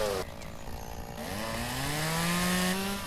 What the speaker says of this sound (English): we're going to take our chainsaw